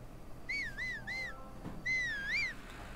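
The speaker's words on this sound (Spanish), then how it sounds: "Volvemos a silbar por si acaso." A person whistles to call the wolf Link in a Legend of Zelda game, giving three short rising-falling whistles and then one longer, swooping whistle, clear and close over faint background hiss.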